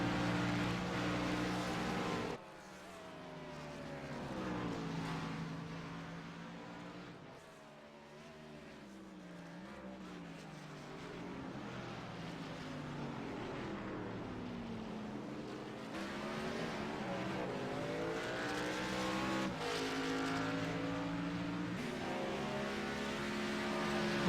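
Race cars lapping Sonoma Raceway in the iRacing simulator, engines screaming through upshifts and downshifts as several cars pass and rev, a continuous, moderately loud roar with no talking.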